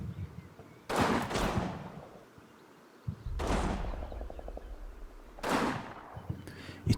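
Gunfire in the Combat Mission war game during a Russian counterattack on a building: three loud bursts of rifle and machine-gun fire spaced a couple of seconds apart, each trailing off into a rolling echo, with dull rumbling between them.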